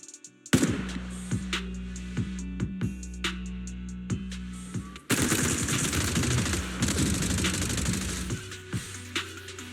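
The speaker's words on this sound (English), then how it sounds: "Gunfire? This pattern. Suppressive marching fire." Video game gunfire in a suppressive marching pattern, rapid automatic bursts repeating in a steady rhythm, then a dense, continuous volley of overlapping shots, loud and close.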